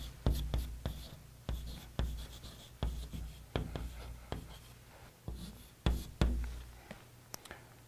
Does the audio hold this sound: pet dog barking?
no